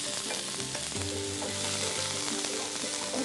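Onions frying in a pan as part of Indian Telugu home cooking, giving a steady close hiss and sizzle with faint stirring clatter, no talking over it.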